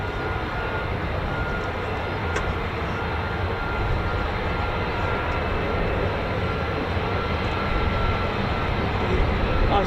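A military jet at RAF Lakenheath, home of the 48th Fighter Wing flying F-15s and F-35s, produces a loud, steady broadband engine roar that holds evenly throughout, with a brief faint click partway through.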